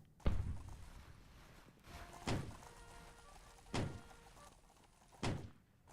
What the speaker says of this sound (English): It sounds like someone's knocking on the door.